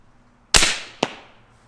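A Hatsan Hydra QE air rifle, set up to fire arrows, lets off a sharp shot, and a second crack follows about half a second later. The pair of reports is loud and close, with no voices.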